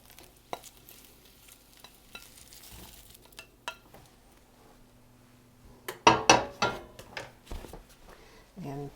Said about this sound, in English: And toss them around.